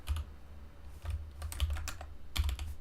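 Bursts of keystrokes clatter on a dusty computer keyboard, quick irregular taps clustered in short runs with brief pauses, close and fairly quiet with no voices.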